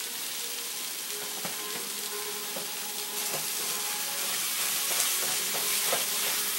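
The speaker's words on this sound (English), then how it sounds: "you brown it just like you would regular plain old ground beef" Ground turkey browning for stuffed-pepper turkey chili, sizzling and frying steadily in a pan with occasional stirring clicks, growing slightly louder toward the end; no talking.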